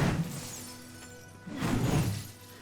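Ice-shattering weapon effect from the game Darksiders II, two loud crystalline shatter bursts with a glassy tinkling scatter as fragments fall, separated by a brief quieter gap.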